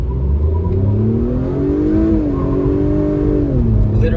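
A 2021 Acura TLX Advance, front-wheel drive, launches hard from a stop, its engine revving loudly and climbing through the gears with a brief dip at a shift, close and continuous.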